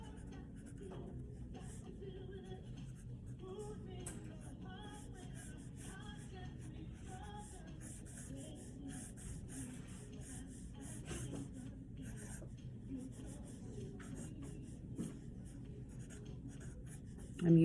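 Pencil scribbling steadily on paper in a continuous dense scratching texture, close and moderately quiet, with a faint low background hum underneath throughout.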